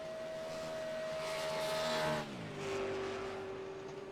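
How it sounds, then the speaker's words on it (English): The iRacing pace car drives down the back straightaway at Daytona in a sim racing game, a steady engine drone whose pitch drops midway as the car passes by. "The new and improved pace car that iRacing came out with here not too long ago."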